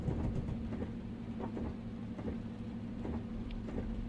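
A Class 55 Deltic diesel train in Train Simulator rolls steadily along the rails, a continuous rumbling drone with faint rhythmic clicks of wheels over track joints, moderately quiet and without voices.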